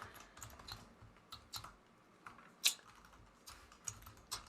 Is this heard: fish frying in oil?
no